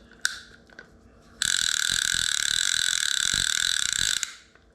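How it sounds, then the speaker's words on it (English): The clicker of a Daiwa Sealine Slosh X40 fishing reel gives a loud, rapid, continuous ratcheting buzz for about three seconds, after a few isolated clicks. "And the clicker on this one is so good. It's so loud."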